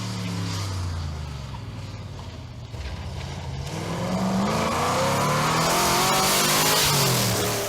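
A Talbot Tiger historic rally car at full speed on a fast, flowing special stage in Wales. The engine drones loudly and steadily, then rises in pitch and swells as the car approaches and passes close by, with no voices.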